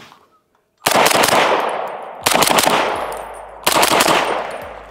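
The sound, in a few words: SIG Rattler LT rifle gunshots with SIG SLX 7.62 suppressor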